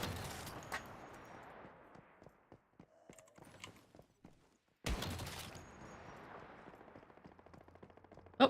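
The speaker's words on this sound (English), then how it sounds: "Oh, I hear somebody shooting." Gunfire in the video game Once Human, sounding from a school area as bursts of rapid shots, some distant and faint, others loud and near, with a sharp full volley starting partway through.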